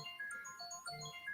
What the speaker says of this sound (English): that little noise was my notification on my phone